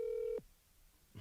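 A telephone ringing tone sounds once as a steady electronic note, then cuts off and leaves a short quiet gap before a brief noise burst.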